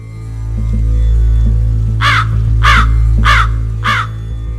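A crow caws four times in a steady, evenly spaced series, loud and near, over a low constant hum, as a sound effect in a spoken tale about Saint Expedite and an evil spirit in the form of a crow.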